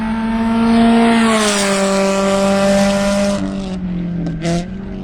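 A Toyota FRS 86 race car laps Carolina Motorsports Park, its engine holding a loud, steady high-revving drone that shifts pitch, then drops away with a brief tire squeal near the end.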